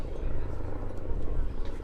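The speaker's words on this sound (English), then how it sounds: "Delightful aeroplane. Now this is a 12A, an Electra Junior." A Lockheed Electra Junior 12A aeroplane flies at an airshow, its engine drone a steady low rumble throughout, with a voice talking over it.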